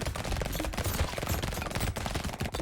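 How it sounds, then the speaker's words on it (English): Submachine gun fire in the arcade game Brotato, a dense rapid stream of small shots mixed with other effects, steady and moderately quiet throughout without a break. "Submachine gun, not very good"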